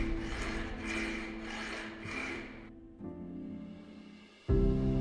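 A metal file rasps in the wheel hole of an old adjustable wrench, several rhythmic rubbing strokes up close, then a tonal ringing hum and a sudden louder tone at the end.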